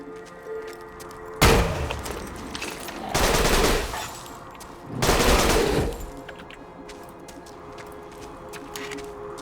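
Rapid gunfire in Borderlands 2 comes in three loud bursts of a second or two each, separated by quieter game ambience.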